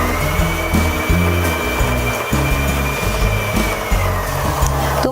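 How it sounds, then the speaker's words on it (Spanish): A Janome 3016 sewing machine winds thread onto its bobbin, its motor whirring loudly and steadily, the pitch stepping up and down as the foot pedal is pressed, with no one talking. "Comenzá a apretar el pedal con tu pie para que cargue"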